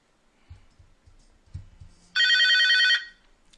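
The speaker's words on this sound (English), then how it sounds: "Take a couple seconds to ring." An outgoing telephone call rings once: a single bright, buzzing ring lasting under a second, following a few soft, low knocks and thumps.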